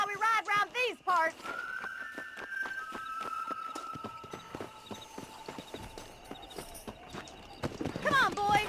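Horse hooves clip-clop steadily through a Red Dead Redemption 2 ride, a rhythmic thudding under game voices and a long whistled tone, with speech at the start and end.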